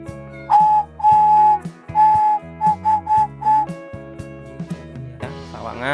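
A sawangan pigeon whistle for a homing pigeon sounds in a series of clear, steady whistle tones, first long and then shorter bursts, close and fairly loud over a low hum, with brief talk near the end.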